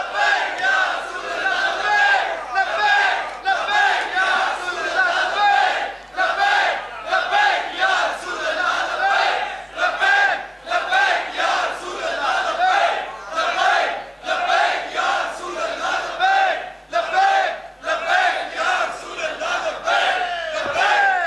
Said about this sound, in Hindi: सारे लाओ नारा।